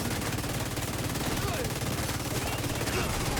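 Continuous rapid gunfire while shooting enemies in a video game, a dense steady automatic rattle that fills the whole stretch with no pauses.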